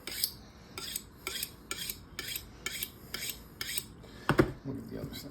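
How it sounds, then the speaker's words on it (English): A knife is honed with about eight quick, evenly spaced scraping strokes while filleting a big catfish, followed by a single louder clunk near the end. "Get my knife a little sharp in here."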